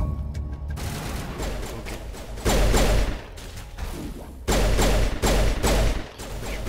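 Bursts of video-game gunfire in Mass Effect: loud, sustained volleys of rapid shots separated by short lulls. A player says a single word at the start.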